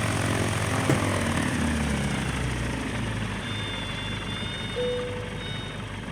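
Steady propeller engine drone of a small aircraft touching down and rolling out on a dirt strip in a flight simulator, loud and continuous with a brief thump and a couple of faint tonal beeps.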